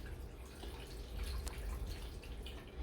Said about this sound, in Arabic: Now we're going to add our water